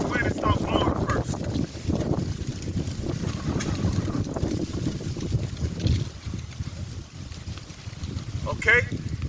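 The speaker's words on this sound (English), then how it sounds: "I know that wind is blowing and it's going to make it hard to hear me" Gusty outdoor wind buffets the microphone in a continuous low rumble that swells and dips throughout, with a few faint bursts of sound at the start and near the end.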